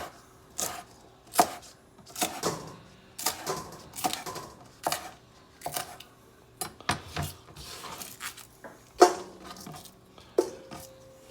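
A kitchen knife slices through green onions against a cutting board, a series of crisp, irregular taps and chops spaced across several seconds, close up and clear with nobody talking.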